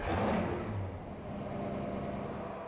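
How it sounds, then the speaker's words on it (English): Race car engines starting and revving in the NASCAR Racing 2003 video game at the Brickyard 400, a loud burst of low engine roar that eases into a steady, dense idle rumble. "Drivers, start your engines!"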